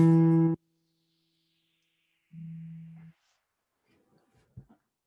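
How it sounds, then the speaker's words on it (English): A guitar note plucked on the fourth string at the second fret sounds twice: first a loud, bright, ringing pluck stopped short, then after a pause a softer, rounder repeat. Faint handling noises and small taps follow. "So that note, if you just pluck that note, should sound like this."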